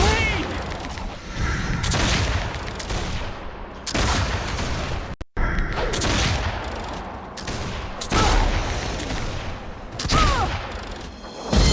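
Gunfire in the online game Warhammer Online crackles in dense, rapid volleys with repeated bursts and short gaps. It stays loud and continuous, and players talk faintly underneath.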